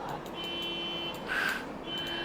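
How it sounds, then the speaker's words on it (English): A car alarm sounds far off, steady tonal beeping that swells briefly in the middle, faint against low background hiss with no talking. "There's a car alarm going off."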